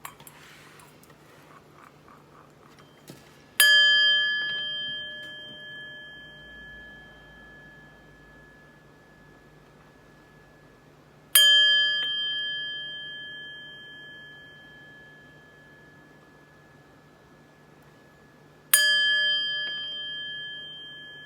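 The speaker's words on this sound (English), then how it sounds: "But first, let's chime." Chimes struck three times, spaced several seconds apart, each a clear bright ring with a long, slowly fading tail, ringing alone in a quiet room before a reading.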